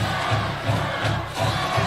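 Chesterton high school football student section roars as a dense, loud crowd during a week-four home game against LaPorte, with rhythmic low pulses like chanting or stomping repeating about every third of a second throughout.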